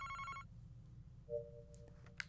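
A telephone rings in the Famicom Detective Club game as a brief electronic trill at the start. It is quiet, and soft tones and small clicks follow.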